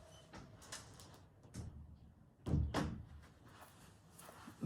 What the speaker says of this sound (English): just need to pop up for a moment and close the door